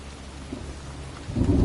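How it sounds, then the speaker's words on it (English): A thunderstorm in the video game Heavy Rain brings steady rain hiss and then a low, swelling rumble of thunder that rises toward the end, with no voices. "looks like a storm's coming"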